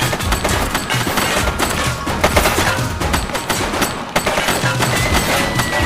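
A suspect's gunfire in the police video game The Precinct comes as a dense, loud, continuous barrage of rapid shots and impacts, with no letup across the whole stretch.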